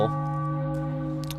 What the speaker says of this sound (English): that deserves a bell